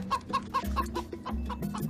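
A chicken clucks close by in a quick, steady series of short, throaty pulses, roughly a dozen over two seconds, over a low background rumble.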